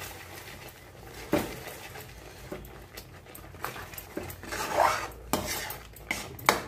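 A spoon scrapes and clinks against a pot while about one and a half spoons of ghee is stirred into a sweet laddu mixture over a lowered flame, giving close, irregular metallic knocks and scrapes with no talking.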